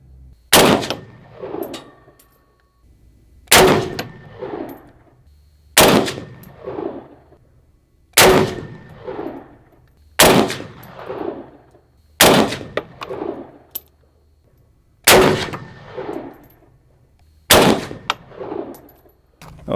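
Rifle shots firing hunting rounds ring out one at a time, eight sharp, loud reports spaced a few seconds apart, each trailing off in a short echo outdoors.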